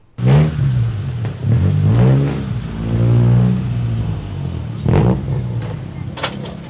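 A tuned Honda car with 4-inch exhaust tips revs hard several times, each loud rising rasp followed by a drop, with brief pops in between.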